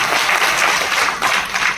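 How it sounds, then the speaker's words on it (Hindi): Loud crowd applause fills a political party's national convention hall, a dense steady wash of clapping that continues without a break. "जोरदार ताली बजा करके स्वागत करिए"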